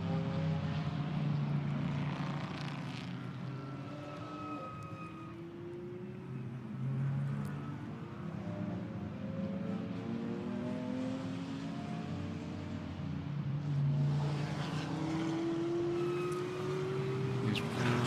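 GT4 race cars, including a BMW, run through qualifying at the Barcelona circuit. Engine drones rise and fall as they pass at a middle distance, with shifting pitch sweeps over a constant broad rumble and no talk.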